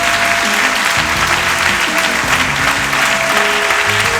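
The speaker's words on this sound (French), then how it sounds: "Can you put your hands together for the Lord?" Church congregation applauding together in a steady, dense wash of clapping that fills the whole stretch loudly, with a sustained musical tone and low instrument notes underneath.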